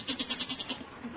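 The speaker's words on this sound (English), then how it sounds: "That's the goat. He's getting restless down in the cellar." A restless goat bleating in a cellar, a rapid quavering series of wavering bleats with a nasal tone, somewhat muffled and moderately quiet.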